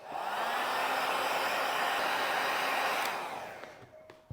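A hair dryer blows steadily on heavy filler during a leather repair, a loud, close whoosh that holds for about three seconds, then fades as it is switched off, followed by a faint click.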